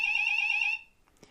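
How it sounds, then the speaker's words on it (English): Fire alarms blare with a steady, piercing high-pitched tone for under a second, then cut off, leaving quiet with a faint click. "Fire alarms."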